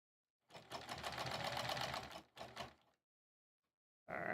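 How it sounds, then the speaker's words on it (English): A sewing machine stitching fabric for a Sleigh Ride embroidered pillow cover runs in a steady close whir for about two seconds, pauses briefly, gives a shorter burst, then falls silent before starting up again. "I'm gonna let the machine kind of pull."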